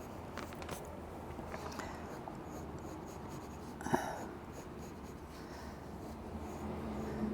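Felt-tip pen tracing over pencil lines on paper for a Zentangle drawing, a quiet continuous scratchy scribble with small strokes and one brief tap near the middle, close and soft under a low room hum.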